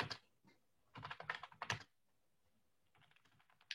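Quick clusters of computer keyboard keystrokes rattle close by in uneven bursts, pausing, then resuming more softly, with no talking.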